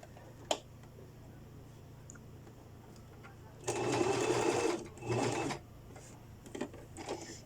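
A sewing machine stitching skirt pleats with long stitches, running in two bursts of rapid mechanical whirring, the first about two seconds and the second shorter, close by over a low hum, with a click and light ticks between runs.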